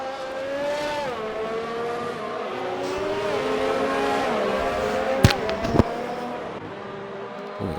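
Sim racing cars at a virtual Hungaroring race, engines whining as they shift gears and pass, then two sharp impact thuds as cars make contact, loud and close.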